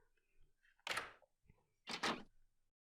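A door opening in the Nintendo DS detective game Last Window, heard as two soft, separate thumping bursts about a second apart against a quiet background with faint low rumble.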